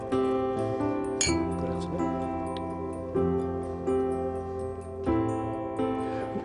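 Wine glasses of white wine clink together in a toast, bright repeated ringing chimes with sustained tones that decay between a few distinct taps, close and clear with no talking.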